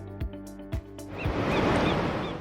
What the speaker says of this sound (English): Waves crash on the beach.